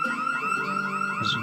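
A house burglar alarm in a video game wails continuously, a loud warbling electronic siren that repeats a rising sweep without a break.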